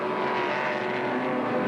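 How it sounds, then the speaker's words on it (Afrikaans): A turbocharged modified race car at Kyalami circuit, its engine a steady loud drone throughout as it passes, with no talk. "luister hoe lieflik klink daardie motor as hy verby jou kom"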